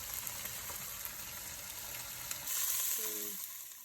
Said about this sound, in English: Fry it until it's just done on both sides.